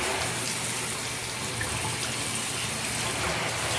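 Water running into a bathtub as spray tanner rinses down the drain, a steady, close, full-bodied rush that keeps the same level throughout, with no voices.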